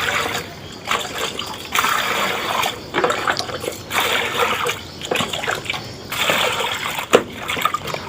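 Kue tetu cake molds being washed in clean water, with steady splashing and sloshing and a few sharper splatters near at hand.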